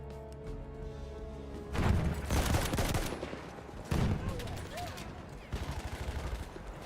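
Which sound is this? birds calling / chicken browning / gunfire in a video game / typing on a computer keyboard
gunfire in a video game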